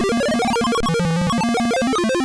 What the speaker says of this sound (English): this game only has PC speaker sound